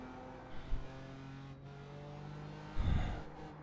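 Race car engine droning steadily at Barber Motorsports Park track, a sustained mid-pitch hum with a louder surge and rumble near the end.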